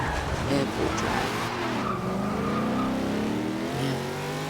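A 2015 Volvo S60 Polestar drifts in Forza Horizon 2, its engine revving steadily with tire squeal layered throughout, loud and continuous, while a voice talks over the driving.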